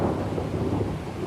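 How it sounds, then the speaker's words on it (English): A heavy thunderstorm with pounding rain and a deep, sustained roll of thunder, dense and loud throughout with no break or voices. "A loud crash of thunder sounded just beyond the tree line to the left"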